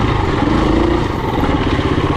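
KTM 350 enduro four-stroke motorcycle engine running at part throttle through tight trail sections, a loud, steady mid-pitched drone with slight rises and dips in revs and no voices over it.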